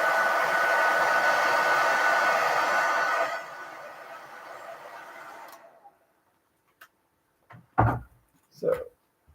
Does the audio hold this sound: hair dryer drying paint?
yes